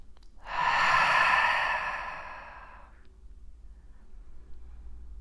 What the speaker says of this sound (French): Kraftvoll einatmen durch die Nase und kraftvoll durch den Mund aus.